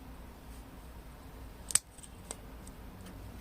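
Pruning scissors cutting a branch on a pewter cliff bonsai, one crisp close snip followed by a lighter click against a quiet background.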